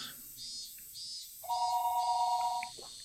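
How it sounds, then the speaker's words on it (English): A telephone in the Higurashi When They Cry Hou video game rings with a single steady electronic trill lasting about a second, set against quiet ambient background sound with faint chirps. "Just then, the phone rang."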